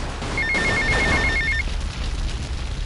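Mobile phone ringing in the video game GTA Vice City, a rapid electronic trill that repeats for about a second over a dense, loud background rumble of game noise.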